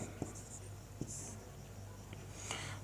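A Sanskrit word being written on a board: steady, scratchy strokes with a few light taps as the writing tool meets the surface, continuous and close over a faint background hum.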